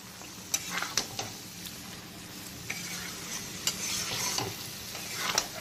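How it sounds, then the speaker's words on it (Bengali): Potatoes stir-fried with spices in a pan over medium-high flame for a prawn curry, a steady close sizzle broken by repeated scrapes and knocks of a spatula against the pan. "আলুগুলোকে মশলার সঙ্গে কষিয়ে নেব"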